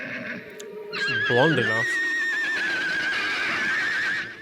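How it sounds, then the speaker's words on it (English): Horses neighing in the 1959 horror film The Killer Shrews, a loud shrill whinny rising and sustained for several seconds, mixed with a voice speaking over it. "those horses are being killed"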